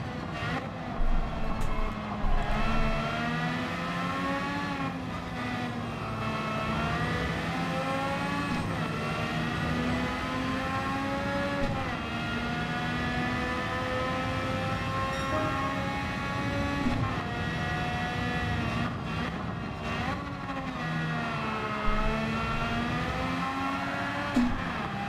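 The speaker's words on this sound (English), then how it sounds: "that's what happens when I try and rev it out in the lower gear" A car engine in Gran Turismo 7 revs hard in a lower gear, a loud sustained drone with pitch sweeping up and down and several long climbs before settling.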